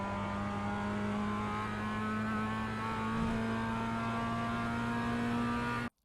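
Mazda MX-5 race car at Tsukuba in the iRacing sim, its engine droning steadily at high revs for several seconds before cutting off abruptly.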